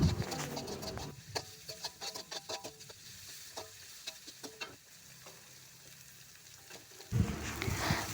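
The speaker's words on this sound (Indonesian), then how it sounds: "Kita aduk-aduk terus sampai daun bawangnya layu." Spring onions are stirred in a pan for a rice vermicelli dish, with a spatula scraping and tapping in an irregular rhythm over a soft sizzle. Two louder bursts open and close the stretch.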